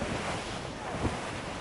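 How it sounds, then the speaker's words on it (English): Steady wind and ocean surf roll on the open sea in Assassin's Creed Rogue, a broad continuous wash with a soft swell near the end, no voices. "Salt air, open skies, man out on the ocean."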